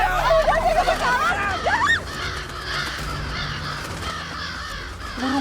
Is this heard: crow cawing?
yes